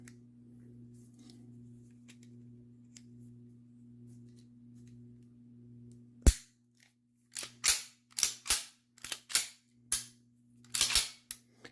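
A CZ-75B pistol's slide stop being fitted during reassembly: after a steady low hum, a sharp metallic snap is followed by a run of crisp clicks and clacks close up, with no talking.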